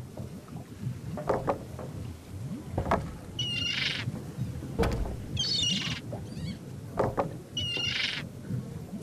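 A parrot in The Secret of Monkey Island squawks in three short bright bursts spaced a couple of seconds apart, heard over a creaking, wind-swept nautical game ambience with no speech.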